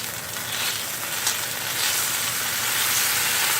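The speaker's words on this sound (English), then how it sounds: "now I'm going to start melting in about an ounce of cream cheese" Cream cheese melting into mushrooms in a hot pan, keto cream of mushroom soup base; a steady, close, broad sizzle and frying hiss runs throughout without pause, slightly swelling toward the end.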